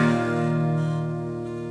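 One guitar barre chord on the third fret, from a song, struck once close up and left to ring, fading gradually with nothing else heard.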